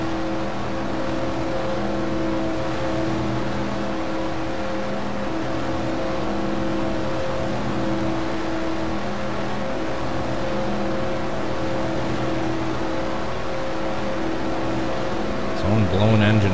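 Race cars in the NASCAR Racing 2003 video game during a Daytona 500 race, with a steady, loud engine drone throughout and a louder roar building near the end as the pack passes, while a voice talks over it.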